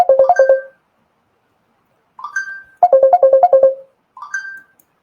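A phone ringtone plays a bright melodic phrase in separate bursts with short gaps between them, loud and close, with no voices over it.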